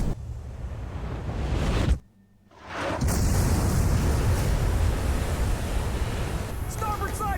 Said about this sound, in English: We've been hit by 2 sub-launch missiles.